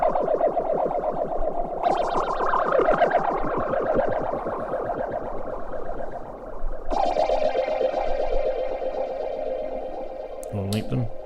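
Feedback Modules Lazer Phazer synth module producing a sustained, buzzing phased tone with sweeping, swirling motion and pulsing texture, steady and loud throughout with a brief glitchy burst near the end.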